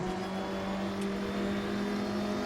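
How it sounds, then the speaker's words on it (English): Volvo 240 Turbo touring car from the classic touring range in the RaceRoom racing game, its engine droning steadily and loudly throughout at a held pitch, close and continuous with no talk. "It is a Volvo 240 Turbo from the Touring Classic range"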